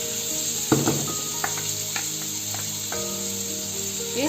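Tomatoes and garlic-ginger paste fry steadily in a pan with a continuous close sizzle, broken by a few soft clinks and scrapes of stirring.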